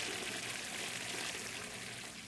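Toilet water sound from the Denizen Life Simulator game, a soft continuous pouring rush that tapers slightly toward the end, with no voices.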